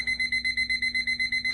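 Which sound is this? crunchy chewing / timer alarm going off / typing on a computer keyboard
timer alarm going off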